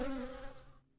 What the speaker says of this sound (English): It was a wasp and an unseasonably massive wasp at that.